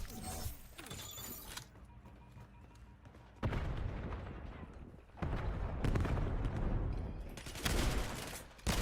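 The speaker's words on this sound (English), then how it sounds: "Oh, this is a shotgun." Shotgun and other gunfire in the multiplayer beta of the video game Black Ops 7, bursts of shots and weapon handling sounds with dense stretches of fire and brief quieter gaps, no talk.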